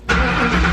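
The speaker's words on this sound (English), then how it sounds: "The car starts, right?" A 1998 Ford Mustang GT, with its ignition switch being replaced, starts on the key: a short crank, then the engine catches and settles into a loud, steady idle close by.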